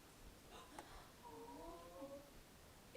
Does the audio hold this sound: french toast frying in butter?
no